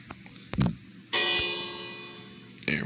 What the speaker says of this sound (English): Rang the bell for what it was worth.